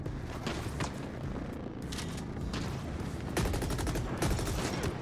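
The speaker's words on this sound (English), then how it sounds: "Let's switch to my shotgun and just take these guys out." Gunfire in the shooter game The Ascent: a dense, continuous barrage of overlapping shots and blasts with a few louder bursts, steady and noisy throughout.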